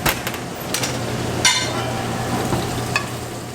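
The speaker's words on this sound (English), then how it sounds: "Seared with salt and pepper on a hot pan and straight into the oven." A salted and peppered mahi-mahi (dorado) fillet searing in a hot pan, giving a loud, close, steady sizzle marked by a few sharp crackles and spatters and a low hum underneath.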